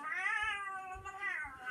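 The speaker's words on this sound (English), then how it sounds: "Aren't you a pretty little kitty catty?" A cat meows alone and close, one long drawn-out cry that rises, dips, and rises again, with faint low thumps underneath.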